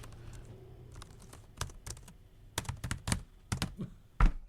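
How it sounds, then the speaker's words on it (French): Computer keyboard typed on slowly with two fingers, producing sparse, uneven clicks and taps that come in short irregular bursts over a quiet background. "Je tape avec 2 doigts"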